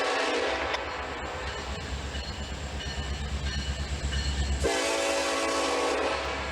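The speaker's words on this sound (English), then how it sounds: "My first Nathan K5 LLA air horn I have ever heard in my life." A Nathan K5LLA air horn on an SD70ACe locomotive blasts loud and sustained, rich chord holding over the rumble and clatter of the passing train, cutting off briefly then sounding again near the end.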